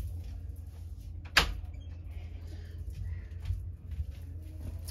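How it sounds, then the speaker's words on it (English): A door eases open indoors with a single sharp click of the latch, then soft faint rustles and movement against a low steady room hum. "I just have to open the door a little bit because the cleaning lady is here."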